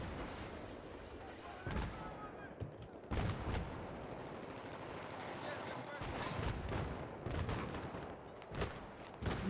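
Sniper rifle shots crack in a shooter video game, several sharp reports spaced irregularly over a busy background of game noise and faint voices.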